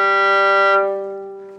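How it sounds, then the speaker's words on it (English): The lowest note a violinist can play on the violin, a rich, buzzy, sustained tone with strong overtones that is held and then fades as the bow lifts. "A low note, the lowest note that I can play on the violin,"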